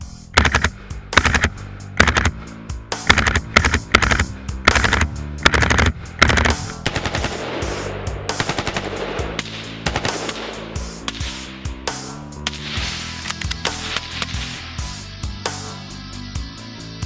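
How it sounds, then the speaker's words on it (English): UIC rifles fired outdoors in rapid strings of loud, sharp shots, automatic bursts that slow into spaced single shots with echoing tails, no speech. "It was really awesome to be able to finally shoot the production versions of the gun."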